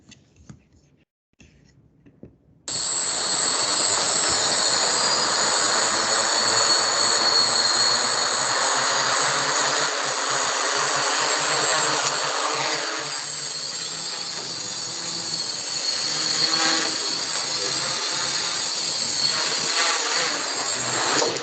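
A small student-built aircraft flies in played-back footage, its motor switching on abruptly to a steady loud buzzing whine that drones on with slight shifts in pitch, faint voices beneath.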